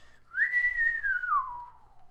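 A man lets out one long whistle from far away, rising briefly, then holding and sliding slowly downward, clear against a quiet background.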